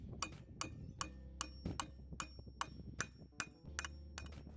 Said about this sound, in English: I can hammer the flanges against the 2x4 rail on both sides and secure it with lag bolts